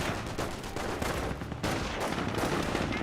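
MG42 machine gun bursts in the World War II strategy game Company of Heroes, dense rapid firing sustained throughout, loud and close with a brief dip mid-burst and no talk.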